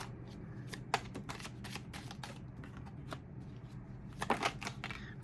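Tarot cards are shuffled by hand close up, a continuous papery riffle and flutter with sharper snaps and slaps of the deck, fairly quiet and with no talking.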